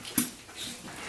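Dogs whimpering for food, a short high whine close by, then quiet snuffling and faint background noise.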